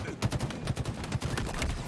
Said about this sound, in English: The shotgun gets the job done.